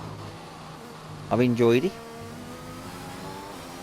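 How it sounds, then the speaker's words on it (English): A steady, droning engine rumble from a race car in F1 2021 at the Austrian round, running continuously at moderate volume while a voice briefly speaks over it. "A car rumble."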